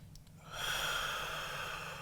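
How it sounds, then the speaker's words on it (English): A single slow, deep exhale during a yoga stretch, a soft airy rush that swells after a quiet start and holds steadily, close to the mic with no talking. "Let's do just 2 more breaths here."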